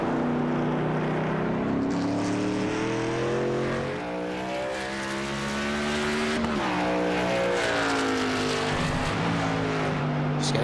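A race truck in the Hammer Down Truck Series at Daytona Beach runs on track, a loud, sustained engine drone with shifting pitch as it lifts and gets back on the throttle.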